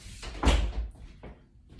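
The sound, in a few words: door being closed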